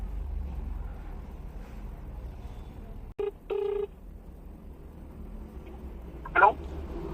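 Phone dialing tones sound while someone calls Uber, a few short separate beeps close to the phone over low background hum and road noise, with someone talking nearby.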